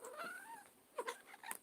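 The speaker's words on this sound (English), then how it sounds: "This is the nosy cat." A nosy house cat gives a few short, quiet meows, one drawn out and then two or three quicker cries, heard faintly indoors.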